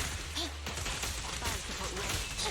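Rapid bursts of gunfire in the video game Zenless Zone Zero, steady and dense across the clip amid game music and effects, with a low drone underneath.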